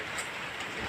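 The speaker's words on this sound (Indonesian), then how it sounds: "Duh, hujan kieu mah geuningan" Heavy rain pours in a steady, dense hiss with no breaks, close and fairly loud, with no voices.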